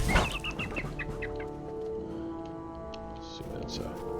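In the Lord of the Rings Online video game, a bird clucks and squawks while being attacked, with a sharp burst at the start and tonal game music and effects continuing underneath.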